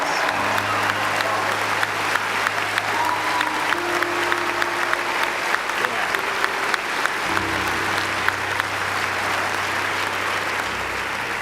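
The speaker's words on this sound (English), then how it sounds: "give yourself a round of applause" A graduating class of 2017 bursts into sustained applause, dense steady clapping from a large crowd filling the space throughout, with faint background voices and some music tones underneath.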